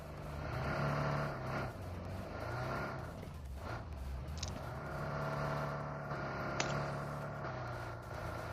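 Engines of several vehicles arriving in PUBG drone and rev at close range, with steady motor noise throughout and a pitch rising then settling.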